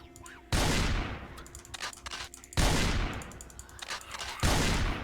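A shotgun fires three loud, booming blasts, each followed by a long decaying tail, in the zombie survival video game Project Zomboid.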